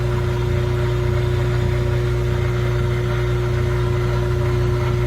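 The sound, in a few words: washing machine motor spinning, Frigidaire laundry center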